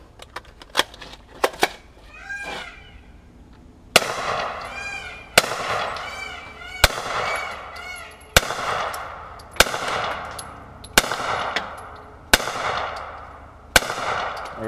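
A .40 caliber Hi Point carbine fires a string of loud, sharp shots about a second and a half apart, each with a ringing tail. A few faint clicks of handling come before them.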